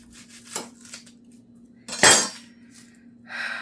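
A knife works at an onion on a cutting board, giving a few scattered scraping cuts, one louder knock near the middle, and a brushing rustle at the end.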